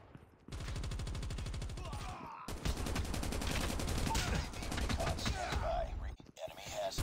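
An RPD machine gun in Call of Duty: Mobile fires long sustained automatic bursts, rapid and loud, with a brief pause between the first and second bursts and a short break near the end, while a voice speaks faintly underneath.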